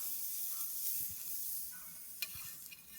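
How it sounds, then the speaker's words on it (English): Ham fries in a pan on a wood stove, a soft steady sizzle with faint scraping and a couple of small clicks, quiet and close. "Now we're going to have some fried ham."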